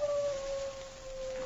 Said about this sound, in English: King, his big dog, whined eagerly at his side